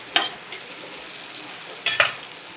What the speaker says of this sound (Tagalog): Magigisa na tayo ngayon.